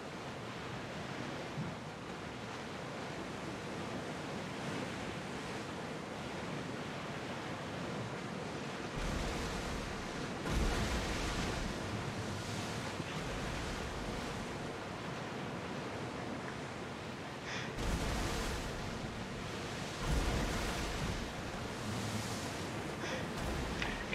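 Open-sea waves washing against a sailing ship in Assassin's Creed Odyssey, a steady broadband rush with swelling surges and wind, faint and continuous with no talk.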